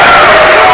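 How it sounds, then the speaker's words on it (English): Home crowd at a Henderson County Colonels boys basketball game on opening night, a dense, loud wash of cheering and shouting filling the whole moment without a break. "this crowd we got here tonight is tournament ready"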